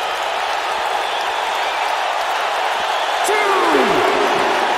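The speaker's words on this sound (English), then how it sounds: "This capacity crowd starting to sense the end is near" Capacity crowd at a wrestling show roaring in a steady, dense wash of cheering throughout, with a commentator talking over it.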